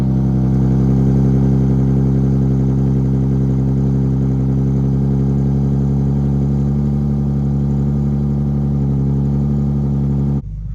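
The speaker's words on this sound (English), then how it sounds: "And let's get a cold start." Infiniti G37x coupe engine after a drivetrain swap, cold starting and settling into a loud, steady close-up idle with a rich low rumble throughout, cutting off abruptly near the end.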